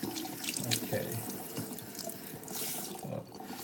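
Tap water running steadily into a sink while a Yorkie is bathed, a close continuous splashing hiss with small shifts in flow and no talk.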